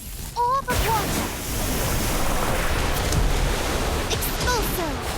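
Water orb spell in Harry Potter: Magic Awakened rushes out as a loud, sustained watery surf-like wash, framed by short whistling magical chirps at the start and near the end, with no voices.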